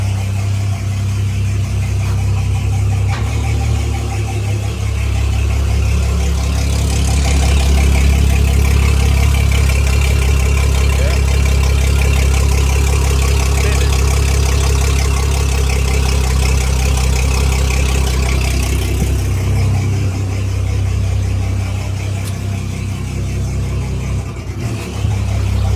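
Twin Mercury Verado 350 outboard engines on a Sea Ray boat, a loud steady low drone of engines running, with a slight swell in the middle and brief changes near the end.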